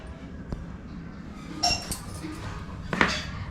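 Round cake plates clink as they are handled during rangoli preparation, two sharp ceramic clinks about a second apart over a quiet room background.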